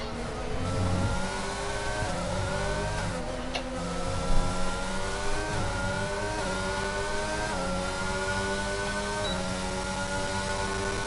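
Three race cars fight for position in a racing game at the Emilia Romagna circuit, their engines whining and shifting pitch together as they accelerate and change gear, steady and fairly loud throughout.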